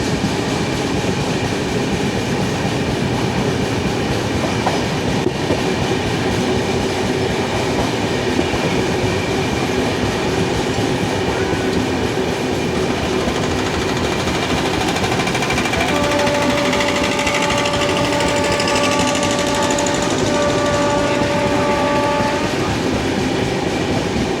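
A sleeper class train runs from Mumbai to Pune with a loud, continuous rumble and rattle of the rail cars. Sustained tonal squeals rise near the end. No one speaks.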